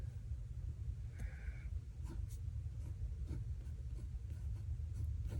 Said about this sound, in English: I'm going to write mail card here